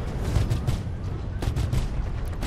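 Behring Sawbuck ballistic repeater firing three-round bursts in Star Citizen, a steady chain of loud, close booming shots with a dense low rumble running through the whole stretch, no voices over it.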